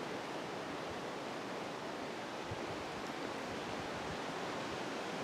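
Wind blowing hard high up in the trees on a hilltop in the woods, a steady broad rushing roar with no breaks and no voices.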